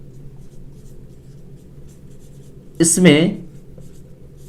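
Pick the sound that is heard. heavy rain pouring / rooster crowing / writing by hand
writing by hand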